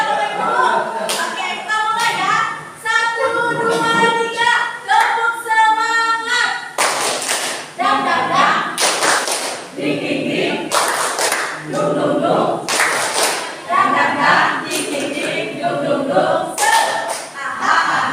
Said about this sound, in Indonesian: Tepuk tangan